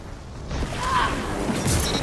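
Arc bolt grenade ability going off in the shooter game Destiny 2: a short crackling electric burst with a whooshing rise and a brief metallic creak, heard alone and fairly close.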